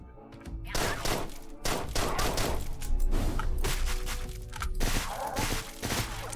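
Rapid gunfire in the top-down shooter Deadbolt, sharp broadband shots in a dense, near-continuous burst of repeated blasts and thuds lasting several seconds, loud and close with no talk over it.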